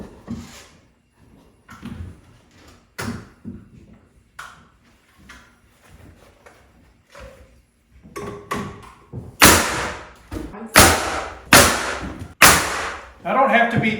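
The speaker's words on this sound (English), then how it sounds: "Then I need to get my nail gun charged up, ready to go. We'll toenail these back into place." A battery-charged nail gun toenails framing boards back into place for a built-in headboard, firing a series of sharp, loud bangs that come closer together and grow louder toward the end.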